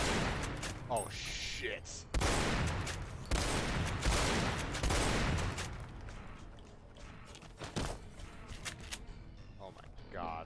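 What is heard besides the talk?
shotgun fire against ghouls in the video game Fallout New Vegas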